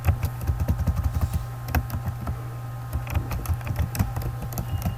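Rapid, uneven clicking of a computer keyboard goes on at close range, quick taps over a low steady hum with no talk.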